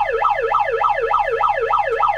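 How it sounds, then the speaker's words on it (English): A siren alarm sound effect wails up and down in quick, even sweeps, about seven cycles, loud and alone. "Good card, alarm, folks."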